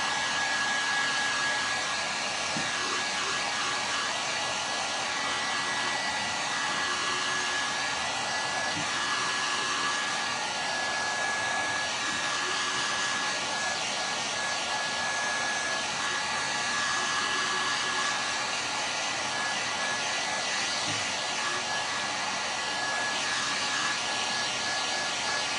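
A hair dryer blows steadily and loudly on freshly painted patriotic jars, a continuous whirring roar with a high whine running unbroken from start to finish, with no talk over it.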